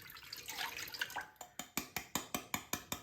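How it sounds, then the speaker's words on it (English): Water pours into a bread pan in a kitchen, a brief splashing rush that breaks into a steady series of about ten evenly spaced drips, quiet and close. "So I'm gonna run some water in there really fast"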